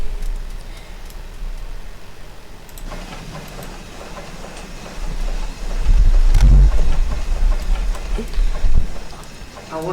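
A simulated LNER Q6 steam locomotive runs on the North Yorkshire Moors line toward Pickering, giving a steady low rumble with rhythmic clatter that swells louder in the second half. A voice talks over it.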